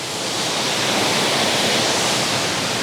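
The broad, steady roar of the waterfall at Twin Falls on Maui, an unbroken rushing wash of water heard from nearby without any voices.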